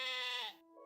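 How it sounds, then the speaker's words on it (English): A single soft sheep bleat out in a field, tonal and wavering, lasting about half a second before it fades into quiet with a faint trailing tone. "I looked up at the soft baa of sheep"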